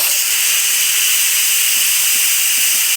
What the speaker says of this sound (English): we will release the rest of the steam. It is time to do the pressure release.